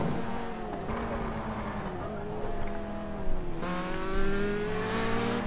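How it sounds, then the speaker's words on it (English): Clio touring race cars in the rFactor2 racing game come down Paddock Hill, their engines droning and shifting pitch as they pass in a close pack, with revs swelling and dropping and a sharper engine note cutting in near the end. "You can see the cars coming down Paddock Hill in front of us."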